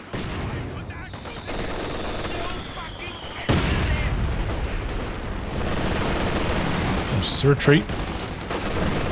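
LMG machine gun fire from Grenadiers in a Company of Heroes 2 battle, steady bursts amid other gunfire and explosions, loud and continuous, with a voice speaking over it.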